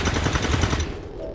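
Automatic turret gunfire in XCOM 2, a rapid machine-gun burst of evenly spaced shots for about a second, loud and close, then trailing off into quieter game noise.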